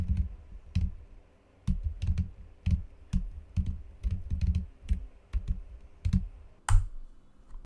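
Python code being typed on a computer keyboard: steady bursts of close key clicks with an irregular rhythm and short pauses, ending in a sharper keystroke, with no voices.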